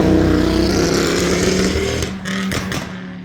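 A car passes close by along a quiet village lane beside a disused railway trail, a loud broadband engine and tyre roar that fades and thins out toward the end.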